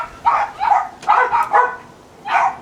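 Several neighborhood dogs, including a blue heeler and a chihuahua, bark at a squirrel in a few close, sharp bursts with short pauses between.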